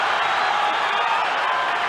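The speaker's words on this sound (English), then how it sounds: "Listen to the crowd's reaction as Pacquiao scores" Boxing arena crowd at a welterweight bout between Manny Pacquiao and Oscar De La Hoya, a steady, loud roar of cheering that fills the whole clip without a break.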